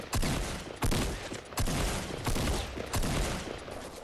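Shotgun fire in Fortnite, five heavy blasts spaced roughly three-quarters of a second apart, each one loud and booming with a lingering rumble before the next shot.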